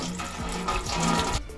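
Water spills and trickles out of the top cap of a full HomeBiogas bladder, a steady close splashing flow with no talk.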